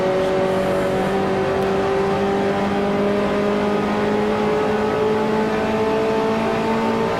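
Race car engine in the Grand Prix Legends video game, a 1955 Formula One car at the French Grand Prix, droning loud and steady with a slowly rising pitch as it accelerates, heard alone throughout.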